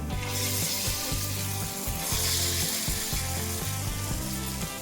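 Bhagar sabudana appe batter sizzles in an oiled appe pan over low heat. A steady, close crackle runs throughout, with a repeating tonal pattern underneath.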